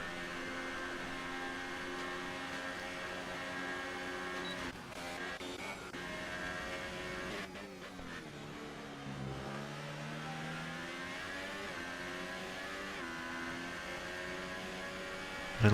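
A race car engine accelerating during a Bahrain Grand Prix race, a sustained high revving whine that climbs in pitch, dips briefly with a gear change, then rises again, steady and fairly loud.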